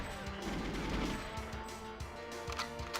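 Gunfire in GoldenEye 007, with a dense burst of shots followed by a run of repeated sharp reports at a steady pace over game noise, loud and close.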